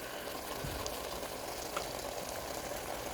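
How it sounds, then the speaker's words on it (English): Meat browning in a pot for a spaghetti dinner gives off a steady, low sizzle with faint crackles throughout, fairly quiet and unbroken. "The meat's cooking."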